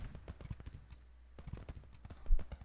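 Horse artillery hooves clip-clop in a Civil War strategy game, a quick scattered patter of soft hoof knocks at moderate distance, fairly quiet, ending with a slightly louder thump.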